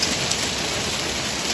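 Hail pelts a car in a thunderstorm, a dense, continuous loud clatter and hiss of stones and rain hitting the metal body, close and unbroken.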